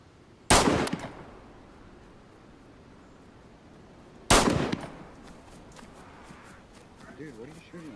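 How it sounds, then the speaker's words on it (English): Two sharp, loud gunshot bursts ring out several seconds apart in a survival video game, each with a ringing tail, followed by quiet background ambience and a faint voice at the end. "Dude, what are you shooting at me for?"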